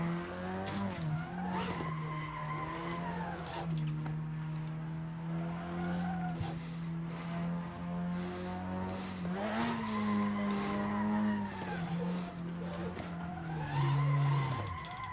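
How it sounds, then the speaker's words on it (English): A car drifting during practice by a new driver, with long sustained tire squeals rising and falling over a steady engine drone, repeated in several sweeping passes. "I'm getting better drifts, and I'm holding it longer."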